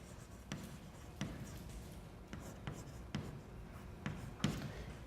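Marker or chalk strokes on a classroom board, a series of scratchy taps and scrapes at irregular intervals, fairly close, with no talking.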